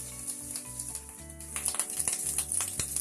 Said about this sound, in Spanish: Voy a empezar dorando la panceta.